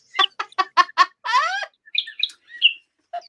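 A battery-powered toy bird chirps alone in a rapid series of bright tweets, then a warbling trill and a few scattered electronic peeps, loud and close in a quiet room.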